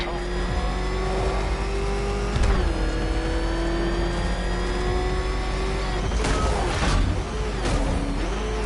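Car engine in Batman Arkham Knight, a steady mid-pitched revving drone that rises and shifts pitch, with sharper thumps and bursts near the end, loud and continuous throughout.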